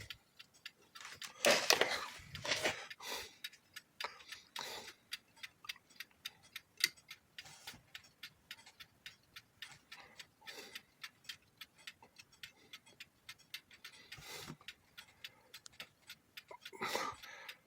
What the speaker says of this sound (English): And it's ticking away.